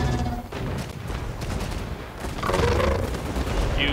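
Gunner units firing in the fantasy strategy game Total War: Warhammer II, a dense, loud volley of overlapping gunshots crackling and booming over a continuous battle din, with no voices over it.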